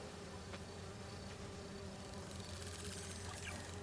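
Insect-like buzzing of bee wolves in Marvel's Spider-Man 2, a steady droning hum running throughout over a constant game ambience, with a brighter whirring swell toward the end.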